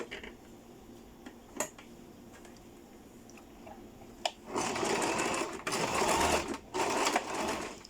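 A sewing machine sews skirt back pieces together in two close bursts of fast stitching in the second half, after a quiet stretch of fabric handling and small clicks.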